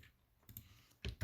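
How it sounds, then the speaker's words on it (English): Computer keyboard keys pressed for an Alt plus Enter shortcut, a few soft clicks close by in a quiet room, the last two strokes louder. "I will click Alt plus enter"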